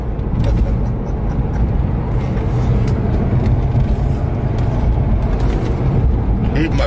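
A car driving on the road, heard as a loud, steady engine and tyre rumble from inside the vehicle, continuous throughout.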